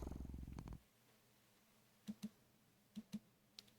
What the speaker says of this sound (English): the cat pads over to you before laying down and purring